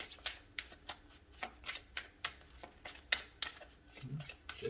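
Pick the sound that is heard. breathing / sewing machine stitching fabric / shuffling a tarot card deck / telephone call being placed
shuffling a tarot card deck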